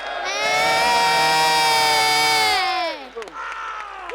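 A loud crowd cheers and whoops at a UK MMA event, a sustained roar of many voices that peaks, then tails off into scattered shouts.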